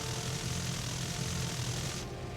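A tier 2 propeller plane in War Thunder roars with a steady loud engine drone. The drone holds constant and cuts its upper hiss near the end.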